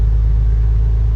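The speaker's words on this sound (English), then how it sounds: "So it's idling a little bit high." An old Porsche engine idles slightly high, a steady low rumble that holds constant and close throughout with no other sounds.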